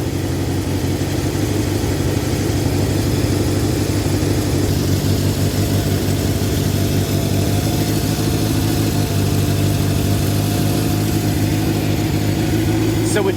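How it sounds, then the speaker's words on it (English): A Honda CB750 motorcycle engine idles steadily and close by after a carburetor air screw adjustment, its low, even rumble holding throughout with no break. "you heard the idle climb"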